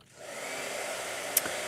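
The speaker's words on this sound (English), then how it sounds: "Blow dryer." A blow dryer starts up and runs at a steady, loud whoosh for under two seconds, with a brief click near the end and no talking.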